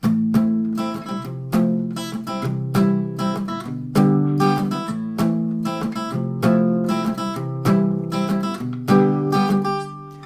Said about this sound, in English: it ends up sounding a little bit messy and you get some fret buzz